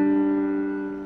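A pair of notes a fifth apart, from a walk around the circle of fifths, rings out together as one clear sustained tone that fades slowly over about a second, with nothing else heard.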